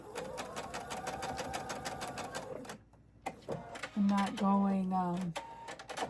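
A sewing machine stitches crumb-pieced hexagon patches through batting, running in a fast steady rattle of needle strokes, pausing briefly, then resuming in shorter bursts while someone talks over it.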